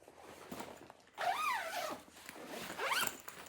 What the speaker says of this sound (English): let me zip this back up, show you guys